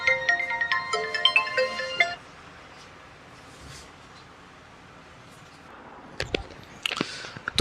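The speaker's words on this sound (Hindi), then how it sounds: "तो एक बार हम फ़ोन देख लेते हैं किसका आया हुआ है" An incoming-call ringtone on a mobile phone plays a bright, stepped electronic melody for about two seconds and then stops, leaving quiet room tone, followed by a few sharp clicks and handling taps near the end.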